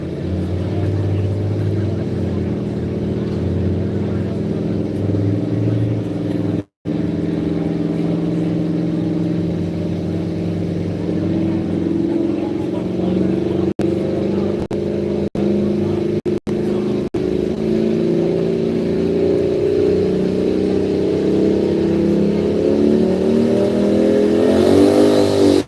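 The pulling truck Old and Hostile, the first in its class at a truck pull, idles with a heavy, loud engine rumble before revving higher and climbing in pitch near the end.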